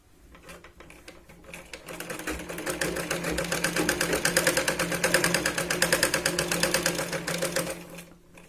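Sewing machine stitching tucks on a Katori blouse: a fast, even mechanical rattle that ramps up, runs steadily for several seconds and then stops, close and moderately loud with no talk.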